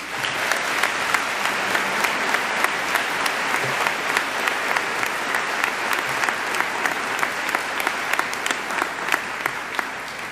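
Loud, sustained applause from a school audience welcoming the keynote speaker to the Cary Academy class of 2018 address, a dense, even roar of clapping filling the room for about ten seconds.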